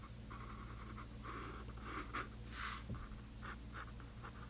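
Pencil line being erased on paper while sketching sailboats for a watercolor painting: soft, quiet scrubbing strokes in short bursts over a low background hum.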